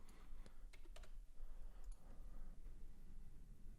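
Someone types on a computer keyboard during a live day-trading session, a few faint keystroke clicks in small clusters sitting under a steady, fairly loud background hiss.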